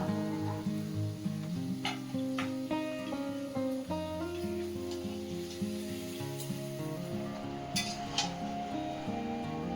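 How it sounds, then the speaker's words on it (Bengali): Marinated chicken fries for biryani in a wok, a soft sizzling hiss with occasional stirring clinks, largely masked by melodic music playing over it. "বিরিয়ানির জন্য মাংসটা কড়াইতে চাপিয়ে দিয়েছে"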